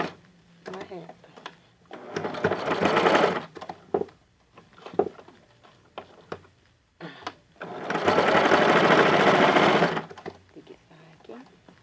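A sewing machine runs zigzag stitches through cotton fabric for a child's panties, in two sustained bursts of steady mechanical whirring and clatter with quieter handling sounds and pauses between them.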